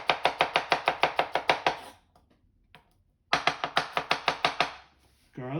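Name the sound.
knife slicing garlic and shallots on a cutting board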